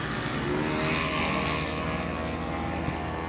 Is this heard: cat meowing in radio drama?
no